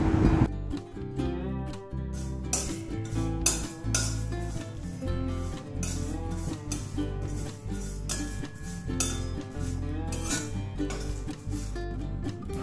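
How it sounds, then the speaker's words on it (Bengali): Whole spices and dried chillies dry-roasting in a pan on a gas flame give steady scraping, clinking and rattling from stirring, close and fairly loud throughout, with no talking. "এবার আমি গ্যাস জ্বেলে দিচ্ছি, দিয়ে এটাকে ড্রাই রোস্ট করে নেব।"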